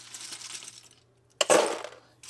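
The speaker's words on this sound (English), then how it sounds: "I'm just gonna go ahead and put them in a clear bucket just so I don't lose any" Plastic keyboard keycaps tumble into a clear plastic bucket, giving a loud clattering burst of many small clicks and rattles, preceded by a faint rustling and followed by another brief rattle.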